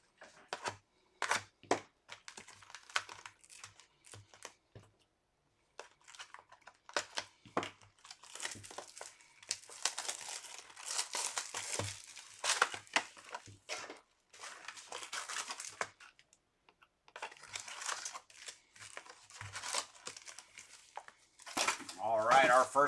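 Plastic wrap crinkles and tears as a sealed box of Topps Finest X-Men '97 trading cards is opened, with close, irregular crackling bursts and short pauses, and a person talking quietly at points.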